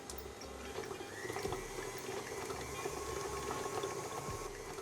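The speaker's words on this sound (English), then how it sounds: "I'm gonna turn on the mixer to beat it on high speed for a couple of minutes" An electric stand mixer whirring on high speed while beating softened butter in a bowl, a steady close mechanical drone with faint clatter, no speech.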